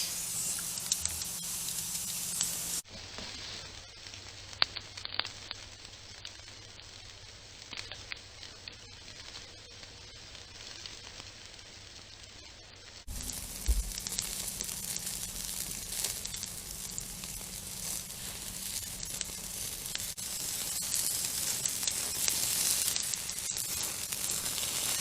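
A ribeye steak sears over an open campfire, producing a soft, continuous hiss and sizzle that drops back briefly and then swells steadily louder toward the end.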